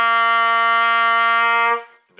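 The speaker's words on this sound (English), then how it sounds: "Low note C." A trumpet sounds a low C, one smooth, full-toned note sustained close-up for nearly two seconds before fading out.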